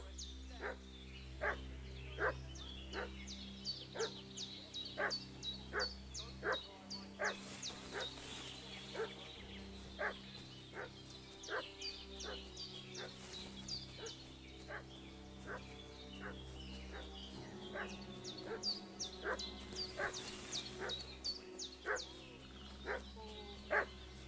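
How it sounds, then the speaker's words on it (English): A dog barks repeatedly in a medieval open-world video game, a steady run of sharp, evenly spaced barks with occasional yips over a low droning ambient bed, moderately distant and without talk. "What's that dog making such a fuss about?"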